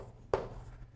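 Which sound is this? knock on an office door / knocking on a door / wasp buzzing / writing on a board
writing on a board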